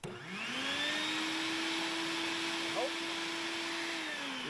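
A shop vacuum draws air through a hose with a steady, loud whine that holds evenly throughout, close by, with a brief rattle of debris partway through, while tearing down a vintage Polaris triple snowmobile.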